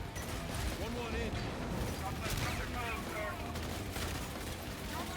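Weapon fire in Call of Duty: Infinite Warfare crackles and booms in a dense, busy battle mix, with voices talking over the shooting throughout.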